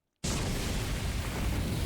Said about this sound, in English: Immediately after, there was a large explosion and undying flames engulfed the entire area.